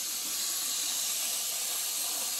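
Water pouring steadily onto beans in a container to rinse them, a continuous bright hissing splash with no pauses, close and loud.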